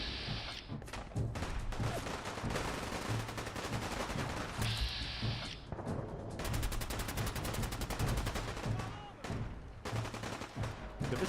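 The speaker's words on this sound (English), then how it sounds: "So this is a hell of a gunfight." Dense gunfire from a gunfight in Fallout 4, with rapid automatic bursts and overlapping shots running almost nonstop at close range, loud throughout with brief gaps.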